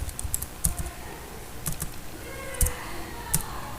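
Fingers type VBA code on a computer keyboard, sharp key clicks arriving in short irregular clusters with brief pauses, close and clear over a faint room hiss.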